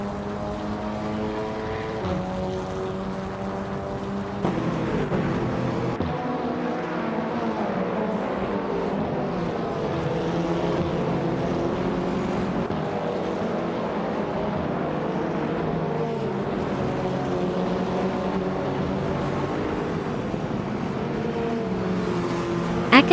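Race car engines roar continuously in a racing video game, several cars droning and shifting pitch together at a steady loud level with no voices.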